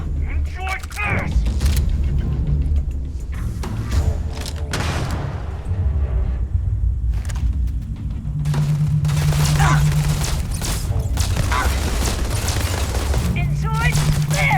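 Sci-fi weapon fire in the space shooter game Starfield, with repeated bursts and mechanical clatter over a steady low drone, and voices talking intermittently throughout.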